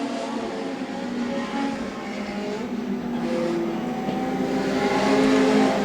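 Pack of Legend race cars in an A main, engines droning together at steady speed, a blended roar from mid-distance that swells slightly toward the end.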